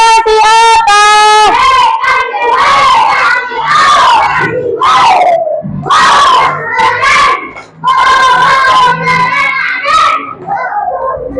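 Primary schoolchildren in a classroom cheering and shouting loudly for the first group, a dense, continuous crowd of young voices with yells rising and falling throughout.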